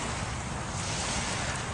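Steady wind and waves rolling against a bank make a continuous, loud broadband rush with no clear breaks and no voices.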